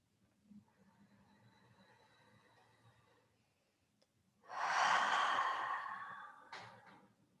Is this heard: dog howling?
no